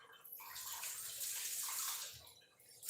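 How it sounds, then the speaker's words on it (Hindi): Water pours steadily into a pot of Chhattisgarh-style bhaji, a continuous splashing rush lasting about three seconds, close and fairly loud with no talking. "इसलिए कम ही पानी डालेंगे, उतना में पक जाएगा भाजी"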